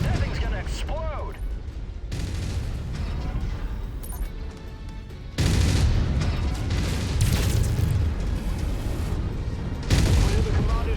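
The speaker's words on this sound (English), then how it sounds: "That thing's gonna explode." Destroyed mech exploding in the video game Mechwarrior 5: Mercenaries: continuous heavy booms and mechanical battle noise, with a bigger blast swelling midway and another near the end, while radio-style voices talk over it.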